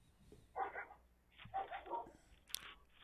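A dog barks in a few short, faint bursts, one near the start and a cluster a second later, with a sharper yelp toward the end, heard at a distance against a quiet background.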